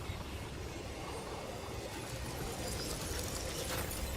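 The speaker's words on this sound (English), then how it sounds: "A singularity, a distress call, and now another ancient train." An ancient train rumbling in the video game Destiny 2, a dense continuous clatter and roar of rolling rail wagons, loud and steady throughout with no speech.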